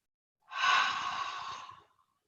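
A single deep, slow breath during a yoga session, drawn in and released as a soft, airy sigh lasting about a second and a half, close and clear with no talk.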